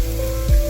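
Frozen green peas tipped straight into a hot pan, giving a short burst of steady sizzling with a low thump as they land.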